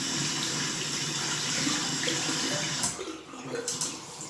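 Steady running tap water splashes over a handmade SV two-band silvertip shaving brush with a pewter collar as it is washed, a continuous close hiss that breaks up and thins near the end.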